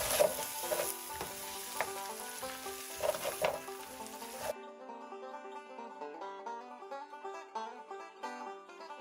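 Peppers, onions and kielbasa sizzle and get stirred in a skillet, a loud dense frying hiss with scraping stirs before it gives way to music.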